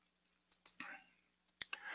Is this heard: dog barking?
no